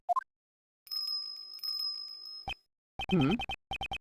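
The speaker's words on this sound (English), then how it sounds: "Is that a bell?" A video game bell chimes with a sustained bright ringing tone lasting over a second, between short plopping blips before it and sharp clicky game sound effects after, fairly quiet overall.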